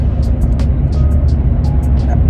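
Interior road noise of a car driving slowly, a constant low rumble with faint intermittent higher noises on top and no speech.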